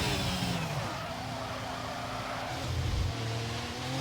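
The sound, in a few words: race car speeding toward turn 6 at Abu Dhabi in racing video game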